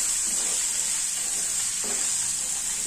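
Tomatoes fry in oil with a loud, continuous close sizzle and faint soft stirring scrapes, and no voices.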